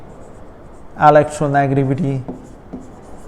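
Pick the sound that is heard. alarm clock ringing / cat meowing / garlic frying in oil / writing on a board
writing on a board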